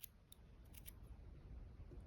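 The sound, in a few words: scissors cutting crochet yarn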